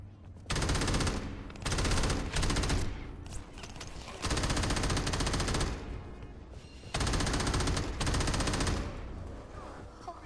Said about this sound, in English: Let me shoot a guard.